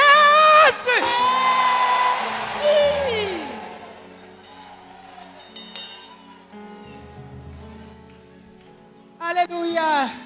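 A church congregation at a Bible seminar shouts and cheers in praise, a loud burst of voices at the start and another near the end, with a preacher's voice and murmuring crowd in between.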